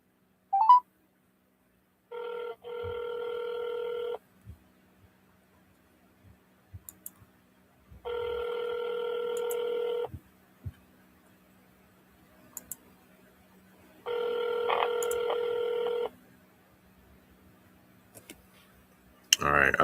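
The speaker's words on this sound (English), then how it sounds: "All right, I double dialed him." A phone call plays out: a quick burst of dial tones, then three evenly spaced ringback tones, each about two seconds long with long silent gaps, plus scattered faint clicks and a sharp noise at the very end.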